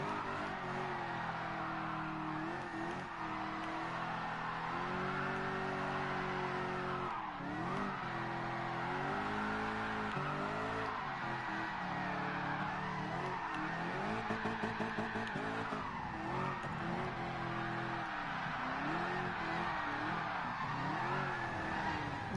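A car drifting through practice runs, its engine droning and revving as the tires squeal and skid in long sweeps, loud and continuous throughout with no talking.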